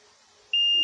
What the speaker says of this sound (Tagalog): Kita nyo, ang taas ng humid ko rito, nag-a-alarm.